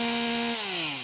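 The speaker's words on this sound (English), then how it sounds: "With tools like this Rhino and chainsaws, the crews clear at least 2 feet around the base of each power pole" A chainsaw clearing brush around the base of a power pole, its engine holding a loud, steady whine at close range and then dropping in pitch as it bogs down in the cut.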